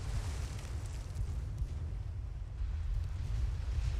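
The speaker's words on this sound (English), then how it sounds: "Hey, there's your torpedo hit." A torpedo hit explodes against a warship in Ultimate Admiral: Dreadnoughts, a deep, rumbling boom that rolls on as a steady low roar, moderately quiet and without voices.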